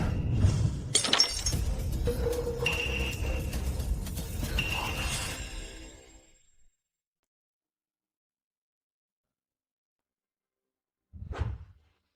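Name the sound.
something smashed to pieces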